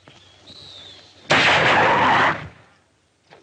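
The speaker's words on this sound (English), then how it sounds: "Nice shooting, Steve." A single gunshot fired at a cougar cracks loudly and rings out for about a second, standing out sharply against a quiet outdoor background.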